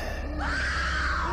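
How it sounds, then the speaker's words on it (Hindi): A woman lets out a long, loud, rising scream, close and alone, used as a sound effect in a horror story narration. "नेहा चीखी"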